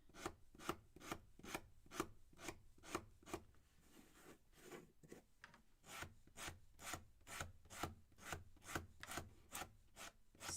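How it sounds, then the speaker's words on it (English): Craft brush bristles are sanded with a sanding block in quick regular strokes, a dry scratchy rasp repeating steadily and close, with a brief slower patch midway. "we're going to take this one and sand our bristles"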